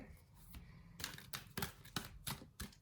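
Tarot cards being drawn from a deck, faint crisp snaps and shuffling clicks in an irregular sequence, soft and close, with quiet background murmur.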